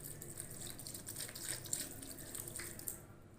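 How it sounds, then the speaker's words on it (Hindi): Water poured into a pot holding chicken for a steam roast, a steady splashing hiss of moderate level that trails off near the end, with no voices. "इसके अंदर हम लोग थोड़ा सा पानी भी ऐड करेंगे"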